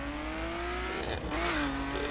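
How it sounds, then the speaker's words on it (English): A Nissan Skyline GTR in a video game, engine revving continuously with a rising and falling whine over road noise and tire hiss, close and steady throughout. "Jump in my Nissan Skyline GTR."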